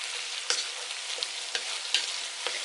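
Onions sizzling in hot oil in a pan for a teriyaki Dungeness crab stir fry, a steady close frying hiss broken by several sharp stirring scrapes and pops.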